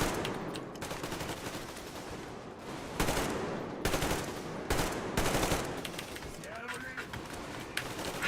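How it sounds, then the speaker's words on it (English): Rapid gunfire in the post-apocalyptic shooter Metro Exodus, repeated bursts of shots and loud cracks running through the whole stretch, with a voice talking over parts of it. "Shooting at the body in front of me."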